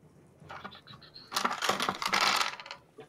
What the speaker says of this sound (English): there goes one of my dice